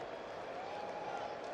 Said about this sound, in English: Crowd has found their voice now.